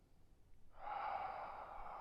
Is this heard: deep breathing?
yes